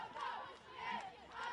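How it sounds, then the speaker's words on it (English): Milford girls' soccer bench players chant a cheer from the sidelines on a cool day, their group voices rising in three rhythmic swells, moderately distant and crowd-like. "Now the Milford bench players keeping themselves entertained on the sidelines with a cheer."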